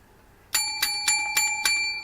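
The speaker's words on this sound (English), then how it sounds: "I got this bell actually from the dollar store" Small dollar-store bell struck five times in a steady rhythm, each ring bright and metallic and overlapping the last, close and fairly loud in a quiet room.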